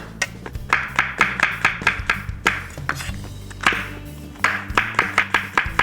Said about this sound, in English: I got about 3 mushrooms, 4 mushrooms. Slice them up nice and thin.